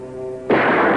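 A single loud rifle shot in a 1954 film shootout, a sharp crack that bursts out suddenly midway after a sustained tonal hum, then rings and decays.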